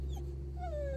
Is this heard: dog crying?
yes